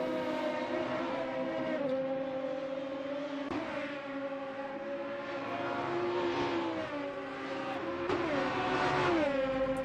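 Race car engines in the simVolvo sim racing game at Road America, with two cars side by side: a sustained, loud engine whine that climbs in pitch through the gears, with several upshifts, and no voices.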